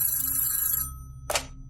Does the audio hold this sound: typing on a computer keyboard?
no